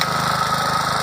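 A tractor engine runs at a steady idle just after starting, a close, continuous low mechanical rumble with rapid regular pulsing and no voices over it.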